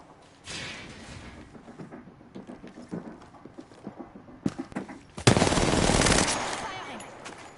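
Gunfire in the video game Apex Legends, with light clicking and rapid taps building toward a sudden, loud, sustained burst of automatic fire lasting over a second before it cuts out.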